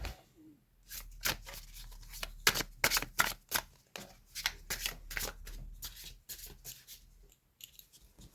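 A deck of oracle cards is shuffled and cut by hand, close crisp riffling bursts and slaps of card stock in irregular quick runs, with no talking over them.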